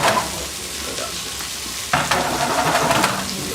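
Sauce with Parmesan reducing in a hot pan, a steady close crackling sizzle that jumps louder partway through, as if the pan is stirred or more liquid is added, and keeps frying busily to the end.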